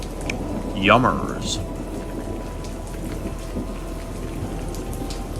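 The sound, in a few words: thunderstorm with heavy rain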